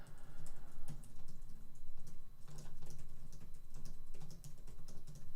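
Rapid, steady typing on a cheap computer keyboard during a speed-typing practice session, with dense clattering keystrokes running continuously throughout, close and clear.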